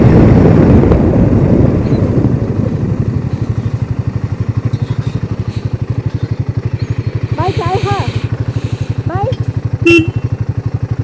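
Motorcycle on a winding mountain road in Uttarakhand, with a steady, close engine drone and pulsing exhaust under loud wind buffeting; brief speech-like voices break in near the end.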